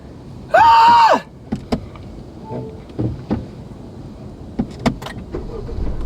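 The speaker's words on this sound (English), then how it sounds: "let's turn this car on because I'm burning" A 2021 Honda CR-V Special Edition starts with a short, loud starter crank, then settles into a quiet idle under scattered clicks and light cabin bumps.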